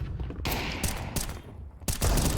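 Gunfire in Counter-Strike 2 during a tournament retake on B: several sharp shots in a burst, followed by isolated cracks and a final louder volley, close and punchy, with no talk over them.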